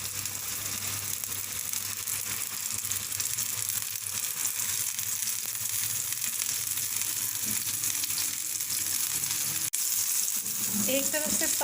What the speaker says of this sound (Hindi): एक तरफ से फ्राई हो जाएं तो साइड तब्दील कर लेंगे इनकी।